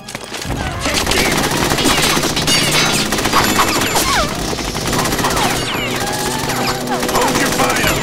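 Sustained machine gun fire in the Metal Gear Solid 2 Plant chapter, loud rapid bursts that go on almost without pause, with a voice shouting now and then over the shooting.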